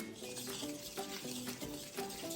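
Pink sugar cookie batter for an Easy Bake Oven is stirred by hand in a bowl, producing quick, repetitive scraping and wet mixing strokes close up, with no talking.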